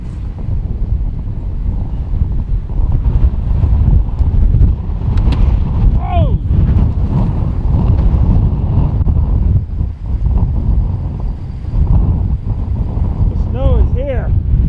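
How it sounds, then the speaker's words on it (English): Brisk wind roars steadily across the microphone outdoors on a sunny day, a dense continuous rumble with faint bird chirps breaking through now and then. "We've got a beautiful sunny day and pretty good brisk wind going right at the moment."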